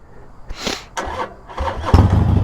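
A Harley Sportster motorcycle engine cranks and catches on a winding road outing, sputtering through a few uneven bursts before swelling into a louder, steady rumble close by.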